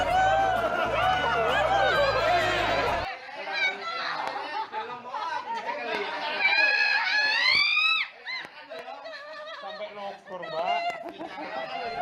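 A policewoman screams and shrieks while getting a COVID-19 vaccine injection, her cries breaking out amid nearby chatter and laughter from the people around her.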